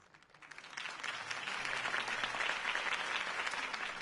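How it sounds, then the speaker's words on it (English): Applause from a large crowd, swelling from scattered claps into steady, dense clapping that continues to the end. "could have heard that applause"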